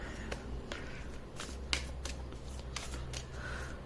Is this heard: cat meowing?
no